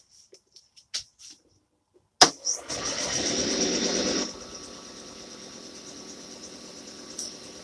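A screwdriver spins a wood ring with a sudden whirring motor start after a few small clicks, then a steady buzzing whine that drops to a quieter hum partway through, close up and without talk.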